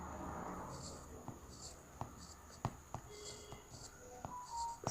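Pen scratches on paper in a classroom-style geometry lesson, quiet strokes and small taps in an irregular rhythm, close by, with faint background murmur underneath.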